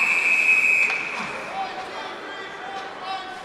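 A referee's whistle sounds at a college ice hockey game between UCLA and USC, a shrill steady tone lasting under a second at the start, then fading into rink crowd noise with voices.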